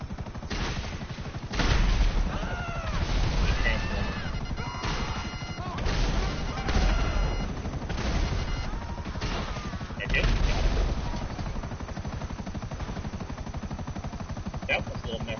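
Bursts of gunfire and heavy impact crashes from a GTA Online firefight, rapid popping volleys and thuds repeating across the scene, loud and dense, with someone talking over the action.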